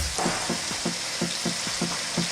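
Sweet potato pieces frying in hot oil, a constant close sizzle broken by about eight evenly spaced soft scraping strokes as they are stirred around the pan, no talking.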